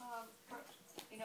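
A 14-week-old malamute puppy whimpers in a few short, high, thin cries close by, with a person talking over it.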